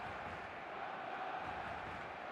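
A full football stadium crowd in the video game eFootball, a dense, steady roar of many voices at constant loudness with no distinct breaks.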